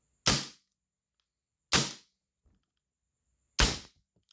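An unloaded Umarex Mauser C96 CO2 BB pistol dry fires in semi-auto three times, each a sharp, loud crack with a brief hiss of gas, spaced about one and a half to two seconds apart.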